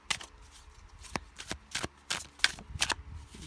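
Tarot cards are shuffled by hand close up, a quick run of crisp riffling snaps and flutters in an irregular rhythm, fairly loud, with no talking.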